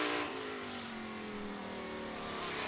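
A race car laps Auburndale Speedway in Florida during outlaw qualifying, its engine note loud and sustained with a steady pitch that sags slightly as it drives past.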